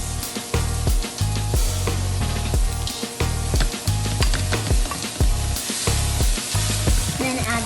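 Cooked rice and corn fry in a hot pan with a loud, constant sizzle, while a utensil stirs and scrapes in quick, uneven strokes close by.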